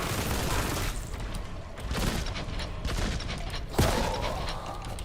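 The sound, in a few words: gunfire from a Kraken magazine weapon in a Warhammer 40K video game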